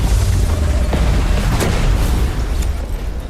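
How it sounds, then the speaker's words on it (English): Enemy aircraft explode in the video game X-02 Myth, a dense rumbling boom that rolls on for a few seconds with faint crackling bursts, loud and close, with no voices. "Thick smoke engulfs our vision as enemy aircraft burn and explode."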